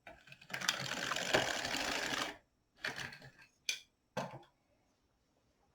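An LK 150 knitting machine carriage sweeps across a weaving row: a sustained mechanical whirring rattle lasting about two seconds, followed by a few shorter clicking and clacking bursts as parts are set, close and fairly quiet, with no talk.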